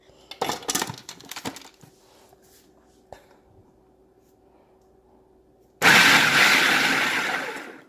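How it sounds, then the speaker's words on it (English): Avocado and olive oil in a food processor: a few light clinks and knocks, then a loud, close whirring burst of the blades pulsing for about two seconds before stopping. "So let's pulse this."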